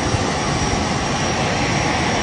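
Steady, dense roar of jet engines heard from inside an airliner cabin, an unbroken rushing drone with no voices over it.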